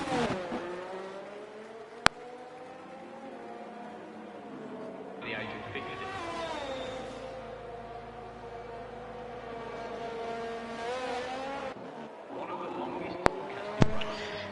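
An Aston Martin race car on a flying lap at the Canada circuit in a racing video game, its engine note rising and falling steadily through gear changes, loud and close, with a commentator's voice running over it throughout.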